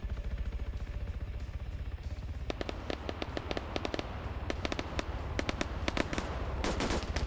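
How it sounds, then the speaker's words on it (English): Machine gun fire in an Arma PvP match rattles in rapid bursts of sharp cracks over a steady rumbling battlefield background, growing denser and louder toward the end. "Machine gun is returning fire and actually getting some hits in Rigel"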